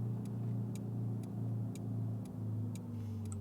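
A car accelerating from a green light in Euro Truck Simulator 2, a steady engine drone with a regular ticking indicator clicking over it, moderately loud and continuous with no voices.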